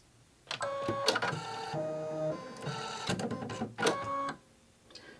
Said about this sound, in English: So basically the machine went ahead and threaded the needle right there.